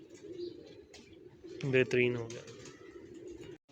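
Pigeons cooing in a pigeon loft, a prominent rolling coo burst in the middle over a low background of bird sounds, with someone talking softly around it.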